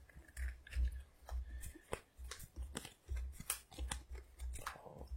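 Marvel Champions cards being drawn and handled on a table, a run of quick crisp snaps, slides and taps repeating irregularly, close and fairly quiet with no talking.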